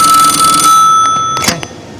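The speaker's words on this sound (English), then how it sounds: "It's the phone." A telephone rings loudly with a steady electronic trill, then breaks off partway as a few brief clicks and handling sounds follow in a quiet room.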